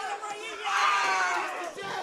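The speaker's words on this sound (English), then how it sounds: "You can hear this crowd." Boxing fight night crowd at Hub City Fight Night, a steady distant roar of cheering and shouting that swells in the middle and then settles, with no clear talk over it.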